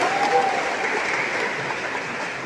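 A crowd claps steadily at an election supervisory board (Bawaslu) event honoring its leader in Gowa, a dense, even wash of applause that continues throughout without a pause.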